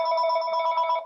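A mobile phone ringtone rings out during a talk about census results, a short bright electronic trill of stacked steady tones, fairly close and alone, trailing off at the end.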